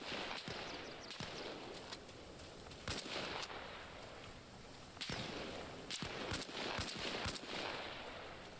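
Distant rifle and machine-gun fire in Arma Reforger, sharp single cracks and short bursts spaced irregularly over a steady outdoor battlefield ambience.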